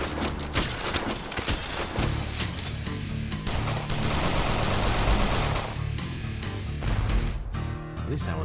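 Enemy gunfire in the indie video game Bob the Schizo: dense, rapid bursts of shots pile up into a loud, continuous barrage with crashes mixed in throughout.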